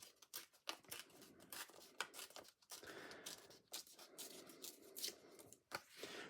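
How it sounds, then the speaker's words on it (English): Something is being torn down by hand: crisp snipping and ripping sounds come in quick irregular bursts, faint and close, with no talking. "Let's tear this down here."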